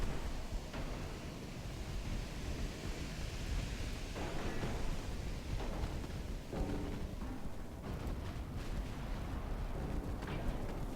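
Naval artillery in Ultimate Admiral: Dreadnoughts rumbles as steady low rolling gunfire, repeated heavy shots over a constant sea-like roar, fairly quiet and distant throughout.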